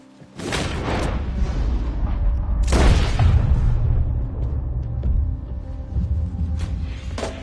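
Two loud, sharp gunshots in the Red Dead Redemption video game, the first near the start and the second a couple of seconds later, each ringing out with a booming tail and no talk.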